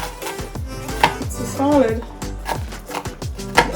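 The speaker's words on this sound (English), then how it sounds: "Now I'm going to cut my onion." A knife chops a red onion for macaroni salad on a cutting board, with quick repeated chops under a person talking.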